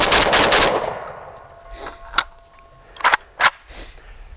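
A JTS AK12 (M12AK) fires rapid rounds at targets on a range. It opens with a loud, fast burst, then a few sharp single cracks and short doubles ring out after a pause.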